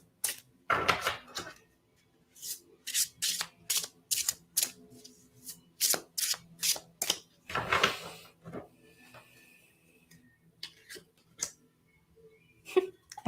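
Tarot cards shuffled and drawn by hand, a run of quick crisp riffling snaps and slaps close up, coming in clustered bursts and then thinning to a few light taps in a quiet room.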